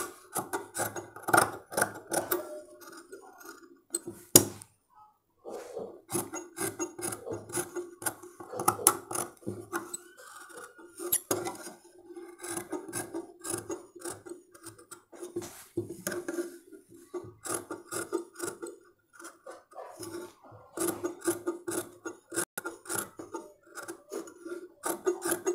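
Scissors snip and rasp steadily through Punjabi dress fabric while cutting the neckline, a close, dry rhythm of short cuts with a few brief pauses.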